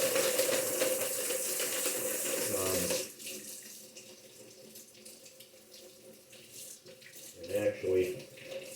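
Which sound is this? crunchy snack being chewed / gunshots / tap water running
tap water running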